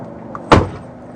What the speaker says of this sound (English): Okay, close your door.